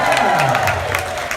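Comedy club audience cheers and applauds with scattered whoops, a dense, steady wash of crowd noise at a stand-up show, with some voices mixed in.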